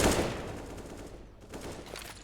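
Counter-Strike gunfire on the Inferno map, a rifle spraying through a wall, with a loud opening burst fading into sustained rapid automatic fire and scattered shots for about two seconds, no talk.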